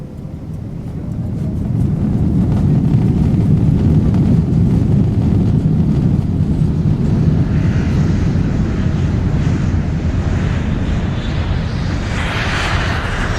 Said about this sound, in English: As my plane took off from Warsaw Airport